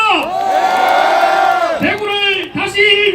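A big crowd at an outdoor political campaign rally at Dongdaegu Station chants a name in unison, loud and close, in two or three drawn-out rising shouts with cheering between them.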